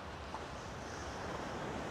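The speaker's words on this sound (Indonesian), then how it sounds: "Di sini ada gelombang-gelombang ombak di pinggir lautan sini, di tepinya lautan" Ocean surf washing against the shoreline of the south Java coast in Central Java, a steady broadband roar of breaking waves mixed with wind rumble on the microphone, continuous and fairly faint with no voices.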